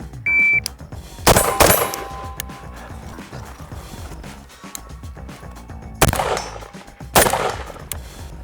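Bren 2 rifle fired at targets on a shooting course: a few sharp, loud reports stand apart with long quiet gaps between them, one early pair close together and two more shots near the end.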